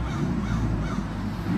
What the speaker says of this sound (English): I hope this bird does a lot more of that during this video.